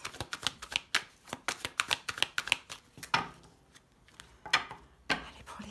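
Tarot cards are shuffled and dealt out with crisp, close flicks and slaps, irregular clusters of taps followed by quieter pauses and a few sharper card placements.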